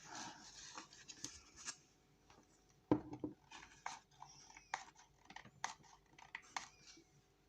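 A barely used glue stick squeaks and scrapes as it is rubbed across paper while making cards from Stamperia Forest scraps, giving faint, uneven rubbing strokes with no talk.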